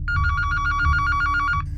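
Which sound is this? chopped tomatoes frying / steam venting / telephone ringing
telephone ringing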